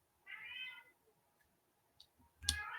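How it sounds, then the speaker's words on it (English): A cat lets out one drawn-out meow, fairly close, followed by quiet and then a sharp click with some rustling. "Cat."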